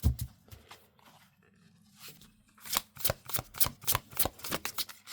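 A deck of tarot cards is shuffled on a cloth, at first with soft scattered handling and then with a run of crisp, rapid riffling bursts close by.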